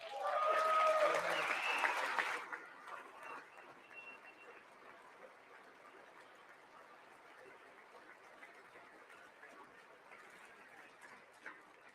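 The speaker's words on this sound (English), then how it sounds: "I wasn't sure if anybody even on this side was going to applaud for that" Audience applause at a State of the Union address rises loudly at first and then fades to a thinner, scattered clapping, heard under a faint murmur of voices.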